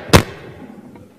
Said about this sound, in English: besides me banging on the microphone